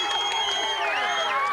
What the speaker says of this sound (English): that's as much noise as I've heard this Glendale crowd